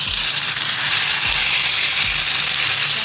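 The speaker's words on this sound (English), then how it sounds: "So now the oil is set and I'm ready to put the fish in." Fish frying in hot sunflower oil makes a loud, dense, continuous sizzle and hiss close by, with a faint low repeating hum underneath.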